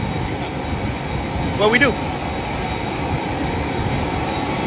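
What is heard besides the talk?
airplane cabin with engine noise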